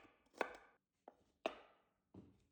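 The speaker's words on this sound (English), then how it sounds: "Chop the garlic" Garlic chopped on a cutting board while prepping garlic butter for steak bites: four sharp knife strikes spaced unevenly, each a crisp close thud with a short decay, separated by near silence.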